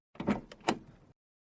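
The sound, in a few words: door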